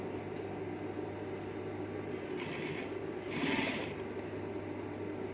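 A sewing machine stitches a hazmat protective suit seam with a steady, continuous mechanical whir close by, swelling briefly louder near the end of the run.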